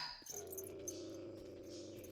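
A dog in the video game 7 Days to Die growls in one low, continuous rumble that holds steady and close for a couple of seconds, with no talking over it.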